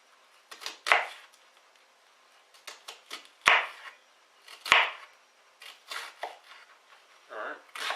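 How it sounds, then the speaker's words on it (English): Vegetables being chopped on a cutting board for corn chowder: a run of sharp knife strikes, some single and some in quick bursts, loud and close, with pauses between. "And then rotate that one and then chop again."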